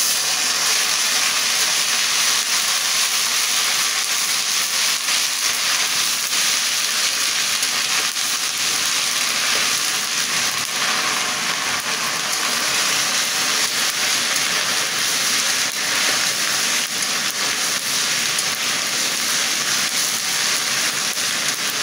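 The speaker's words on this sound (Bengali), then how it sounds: "আদা রসুনটা আগে আমি ভালো করে কষিয়ে নেব।" Ginger garlic paste frying with onions in a pan: a loud, steady sizzle and bright hiss runs continuously, close up, with no voices.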